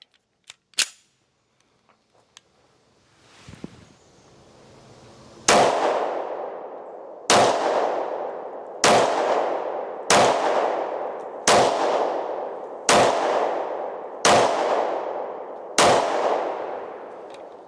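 Eight sharp, loud shots from a 1911 pistol fed by a Mec-Gar magazine, fired at an even pace about one per second after a few faint handling clicks and a rustle, each crack ringing out with a short echo.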